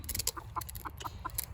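A chicken clucks in a steady run of short, evenly spaced calls, fairly close, over constant outdoor background noise and scattered higher chirps.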